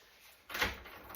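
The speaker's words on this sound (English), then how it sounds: "If I turn this round this way, I'll get that back door open." A back door unlocked with keys and swung open at home, a quiet rattle followed by a sudden rush of louder sound as it opens, with no talking.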